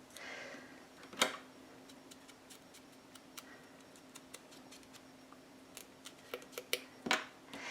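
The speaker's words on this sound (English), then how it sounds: "We are going to cut these out." Scissors snip out paper pieces for a steampunk explosion craft box, with a sharp cut near the start, scattered small clicks through the middle and a few more snips near the end, close and fairly quiet.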